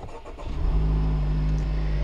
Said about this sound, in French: nous allons démarrer la voiture